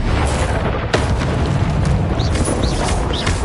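Expelliarmus spell cast in the video game Hogwarts Legacy, a loud continuous roaring blast with a sharp crack near the start and a dense rumbling wash throughout.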